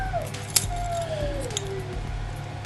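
Metal keys on a keychain jangle lightly in a steady rustle, with a couple of sharper clinks, over a low background hum.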